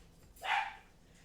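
A dog barks once, a short and bright bark, somewhat distant, heard alone over faint background hiss.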